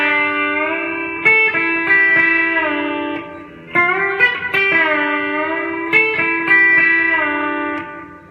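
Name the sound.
B-bender guitar, bent B string let down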